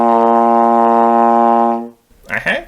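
A trombone sustains a single low B flat in first position, loud and steady for almost two seconds before fading out, followed by a short burst of a voice speaking.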